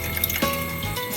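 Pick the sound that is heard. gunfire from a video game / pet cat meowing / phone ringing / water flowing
water flowing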